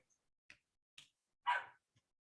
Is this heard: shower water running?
no